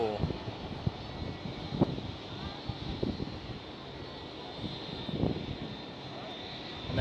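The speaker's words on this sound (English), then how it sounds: "Private jet. The single engine turboprop." A single-engine turboprop private plane at Schiphol airport gives a steady, broad engine roar with wind noise, moderately loud and continuous, and brief knocks and faint voices rising through it.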